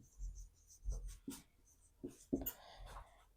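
Pen or chalk scratching out a definition by hand, a series of short faint strokes and taps at an uneven pace, close and quiet.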